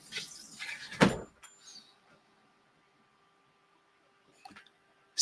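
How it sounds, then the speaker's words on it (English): A door pushed shut in a room, one sharp loud thump followed by a quiet pause and faint rustling. "Close the door, please."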